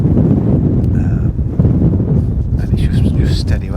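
Wind gusts across a fishing lake and buffets the microphone with a loud, rumbling roar that rises and dips unevenly throughout.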